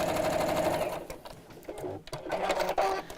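A Bosal sewing machine runs in close bursts while quilting stitches through fabric, its motor hum and rapid needle rattle starting and stopping, with brief pauses between runs.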